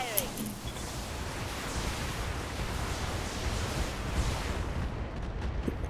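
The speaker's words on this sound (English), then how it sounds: "Missiles away. Firing." Missile salvo fired from a BattleMech in a MechWarrior game, a dense sustained roar of launches and rumbling blasts running throughout with a voice talking underneath.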